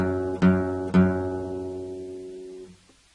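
Guitar repeats one low note, second fret on the sixth string: repeated plucks that ring out and slowly fade, close and solo.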